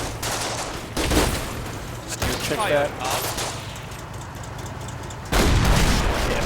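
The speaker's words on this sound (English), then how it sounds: "Jagdpanzer IV moves back, does set, gets the shot off, and knocks out the 76mm gun" A Jagdpanzer IV tank gun firing in Combat Mission, with several heavy, booming shots and rumbling impacts at irregular intervals and a loud final blast, while someone speaks briefly between them.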